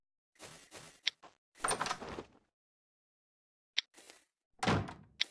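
A simple door is placed in a survival game, giving short thunking and sliding door-like clunks in two clusters separated by silence, loud and close.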